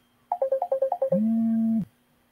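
A phone rings for an incoming call during a classroom presentation session: a quick series of short electronic beeps followed by a longer sustained tone, clear and fairly close, with no talking.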